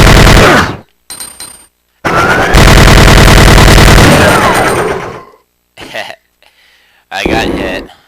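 A rapid-fire gun in Resident Evil 2 sprays bullets at a licker in long loud bursts of dense rattling shots, broken by short gaps and a few brief creature noises and effects, with someone talking over parts.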